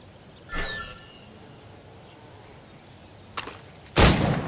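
Gunshots ring out at targets during shooting practice in the video game Assassin's Creed Rogue: one sharp report early on, then a quieter shot and a louder, echoing blast near the end, with near-silence between.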